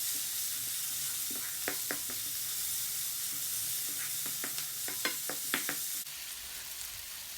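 Prawns and chicken frying in leftover oil, a steady close hiss and sizzle running throughout, broken by scattered crackles and pops and a few light scraping or stirring sounds, with no talk.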